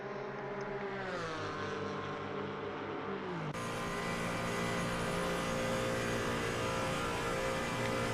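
Porsche race cars on the Nordschleife's long straight in a racing video game, a loud sustained engine drone whose pitch climbs steadily and then shifts abruptly partway through as another engine note joins, with no talk.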